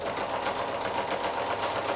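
Sewing machine stitching quilt binding, a close, steady mechanical whir with a fast regular stitching pulse running continuously.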